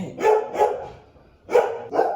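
Dogs barking at a UPS truck, loud close barks in two quick pairs separated by a short pause, with no voices.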